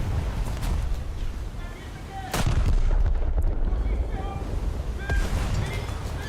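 Heavy naval guns of the French battleship Strasbourg boom in a video game, one big blast standing out over constant ocean wash and wind rumble, with further thuds and a voice talking underneath.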